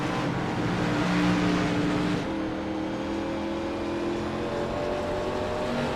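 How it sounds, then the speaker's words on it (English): Race car engines in the iRacing video game at New Hampshire, a steady loud roar of several cars running flat out down the straightaway, pitches shifting as they jostle side by side, with no talk. "It's going to be a drag race down the straightaway."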